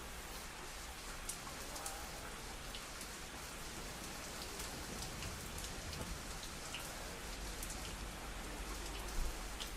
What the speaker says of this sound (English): A storm is coming.